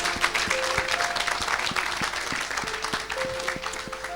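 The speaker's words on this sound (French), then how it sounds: "Est-ce que tu peux acclamer tranquillement Jésus-Christ?" Sustained applause from a church congregation acclaiming Jesus Christ, dense rapid clapping that fills the space evenly at moderate loudness, with a faint voice underneath.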